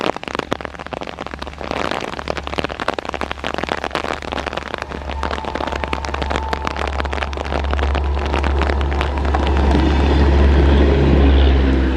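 Yelahanka Kachiguda Express train passing in rain, a heavy low rumble and dense rattling clatter that build and grow louder toward the end, with rain hiss throughout.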